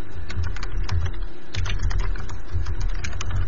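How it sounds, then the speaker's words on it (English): Rapid clicking of keys on a computer keyboard as a message is typed, a steady close-up patter with a brief pause midway before the keystrokes resume. "Let me type this in as well."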